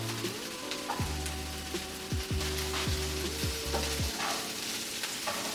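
Onions and garlic sizzle steadily in a pan of olive oil and vegan butter, a close, soft crackling hiss with a few scraping stirs and a faint low hum underneath.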